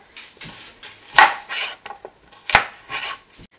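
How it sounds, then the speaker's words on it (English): Carrots being topped and tailed with a knife on a chopping board for homemade coleslaw, two sharp close chops with lighter scraping and handling knocks between them, no talking. "So I'm just going to top and tail the carrots."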